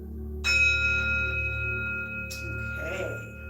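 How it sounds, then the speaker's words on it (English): A small singing bowl tuned to C is struck like a gong, giving one clear ringing tone that swells and holds with long sustained overtones, near and fairly loud, with a second light touch partway through as it rings on. "I'm just gonna give my bowl, my little singing bowl here, a little bit of a gong"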